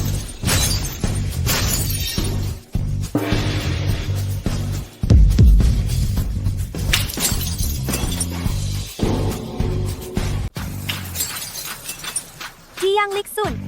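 A drinking glass smashes with a brief, bright shatter midway through a tense dramatic scene, set against swelling music and people talking close by.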